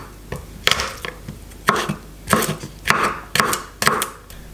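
A knife chops garlic cloves roughly on a cutting board: about nine sharp, uneven knocks in irregular clusters, close and fairly loud, with no talking.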